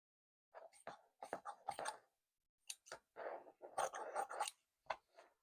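Scissors snip through a scrap of fabric in a sewing room, several short crisp cuts in clustered bursts with brief pauses between, close and fairly quiet.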